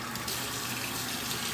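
Tap water runs steadily into a small hotel-style bathroom sink, a constant close splashing hiss that holds at a moderate level throughout.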